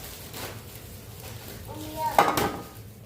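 Metal baking tray for stuffed mombar set down and handled in a home kitchen, a few soft scrapes followed by a brighter metallic clatter, fairly faint and close.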